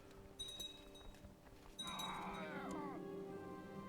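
Bleating sheep or goat calls from a Crusader Kings 2 mod, a wavering animal bleat rising partway through and holding over the quiet music bed for a couple of seconds.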